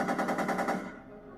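Rapid automatic gunfire from a gun in a Back to the Future video game, a fast even burst of shots lasting under a second before cutting off into a fading tail.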